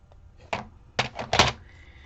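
A paper cutter for cardmaking is set down and handled on a craft table, giving several close, hollow knocks and clunks: one thud, then a quick cluster of three, with no talking.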